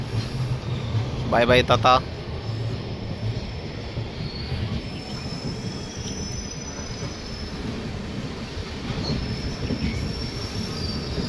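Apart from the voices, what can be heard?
Golconda Express train departing Vijayawada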